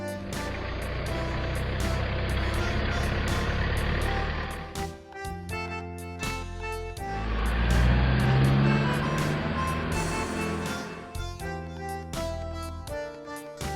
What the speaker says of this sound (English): SWAT vehicle